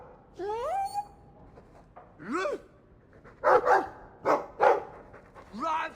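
A dog in the Dragon Age 2 video game barks several times in short, uneven bursts, fairly close and moderately loud, with game voices and talk mixed in.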